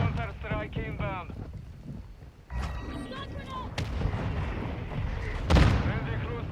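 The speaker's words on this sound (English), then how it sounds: "Friendly mortar strike inbound." Friendly mortar strike in Call of Duty Modern Warfare II: a voice-like radio stretch opens, then several heavy muffled booms and sharp blasts land over rumbling wind-like noise, the last impact the loudest.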